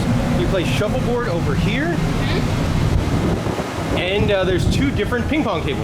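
Wind gusting across the open deck 11 of the Carnival Elation cruise ship, between the main pool and water slides, a steady broadband rush under continuous close conversation.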